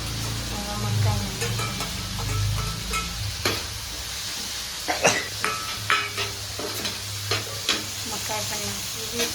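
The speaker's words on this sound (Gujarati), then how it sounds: "હવે નાખી દઈશું મકાઈ." Corn kernels tipped into a hot pan with salt, frying with a steady sizzle while a spoon scrapes and taps against the pan in irregular strokes nearby.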